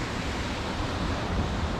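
Ocean waves roll in on a wild Scottish coast near an abandoned 1700s cottage, a dense continuous roar of surf mixed with wind rumble, loud and unbroken.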